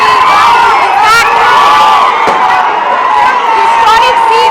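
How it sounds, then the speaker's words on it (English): A large crowd of Congress party supporters cheers and shouts for a political leader at Gandhi Bhavan during an election-win celebration, loud continuous roaring with whistles and high voices overlapping throughout, one sharp bang partway through. "Revanth Reddy there receiving a resounding welcome from his supporters"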